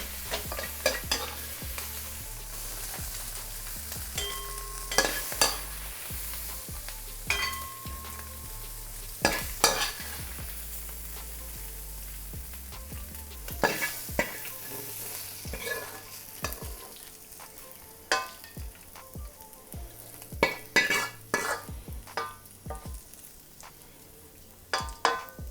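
Chicken and chilies are stir-fried and tossed in a wok with sesame oil, heat off, giving soft sizzling under sharp intermittent clanks and scrapes of the utensil against the pan, close and fairly quiet.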